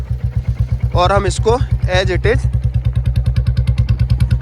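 A Royal Enfield motorcycle engine fires up on a cold start and settles into a loud, steady, thumping idle close by, while someone speaks briefly over the first seconds.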